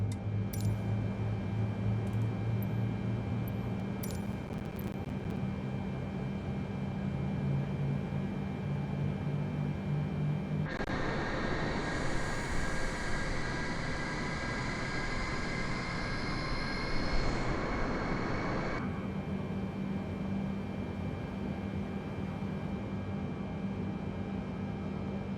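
Engines spooling up on a Boeing 747-8i at Paris Charles de Gaulle, a steady whining roar that swells abruptly and holds for several seconds before falling back to a lower cabin rumble, with no talk.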